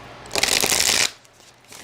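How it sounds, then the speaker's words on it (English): A deck of tarot cards is shuffled close by in a single brisk riffle lasting under a second, a crisp papery flutter that stops abruptly into quiet. "Let's just shuffle first."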